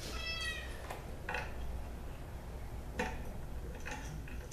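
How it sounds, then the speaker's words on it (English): A pet cat gives a short meow, followed by soft ticking and faint clicks in a quiet room, the cry brief and close but not loud, with no talk. "The cat is still very upset with us because we brought Puddles with us."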